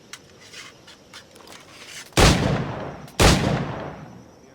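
Two loud, booming flintlock-style gunshots in Assassin's Creed IV: Black Flag, each a sharp blast with a long rolling decay, about a second apart, following a few faint clicks and handling sounds.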